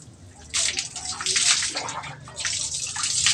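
Water pours and splashes over Coco, a dog being soaked before shampoo, in loud close bursts of gushing and sloshing with a brief pause between, under a little background voice.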